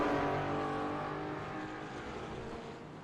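Race cars at Silverstone heading into Abbey, running side by side: a dense, sustained engine roar with a steady buzzing drone that slowly fades as the pack moves away, loud and close with no talk over it.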